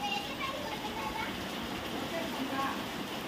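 Steady rain falling outside, a soft continuous hiss heard at a distance and fairly faint, with no distinct drops standing out.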